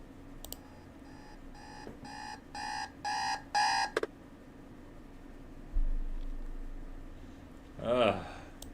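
An alarm clock beeps in a repeating series of short electronic bursts that grow longer and louder before cutting off, followed by quieter rustling in the morning stillness.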